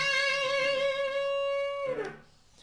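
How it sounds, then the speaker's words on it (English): Sustained electric guitar note at the 12th fret, bent up a whole step, rings steadily with a clear overtone series, then drops and fades away near the end. "we're playing the 12th, and we're bending that up a whole step"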